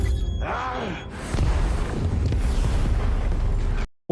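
A film explosion tears through a corridor and blows out windows: a loud, dense rumbling blast with crackling debris that carries on for several seconds before cutting to silence.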